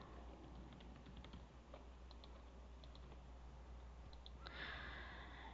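Keystrokes on a computer keyboard entering an email address, faint, scattered light clicks in short bursts against a steady hum, ending in a slightly louder rustle.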